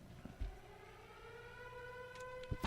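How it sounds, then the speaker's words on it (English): A wailing emergency siren of the hurricane-warning type drones steadily in the distance, holding a sustained, gently shifting tone, while a few soft knocks and bumps land nearby. "That's an emergency siren, like before a hurricane."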